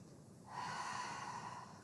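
A single soft inhalation through the nose during a pilates exercise, close and quiet, swelling after a brief pause and holding steady for over a second.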